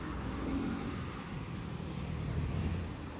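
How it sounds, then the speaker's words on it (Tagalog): Steady road traffic with cars, trucks and buses passing along a neighbourhood street, a continuous low rumble of engines and tyres heard up close with no talk. "Daming sasakyan."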